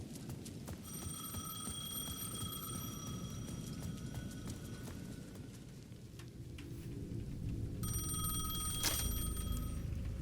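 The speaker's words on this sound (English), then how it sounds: "The payphone at the edge of the plaza was ringing again." A payphone rings in the video game Alan Wake, its repeated electronic trills sounding in bursts over a low rumbling, rain-like ambience, with a final loud ring near the end.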